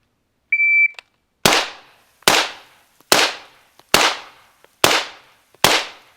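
Six sharp, loud gunshots ring out at a steady pace of roughly one every 0.8 seconds during a firearm shooting drill, each followed by a short echo tail and preceded by a brief electronic shot-timer beep.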